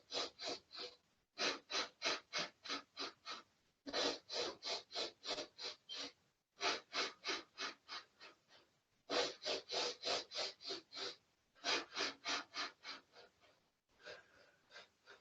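Short, forceful pranayama breaths during a gentle hatha yoga class, rapid rhythmic bursts of nasal breathing in quick runs of five to eight puffs, separated by brief pauses, close and clear with no talking.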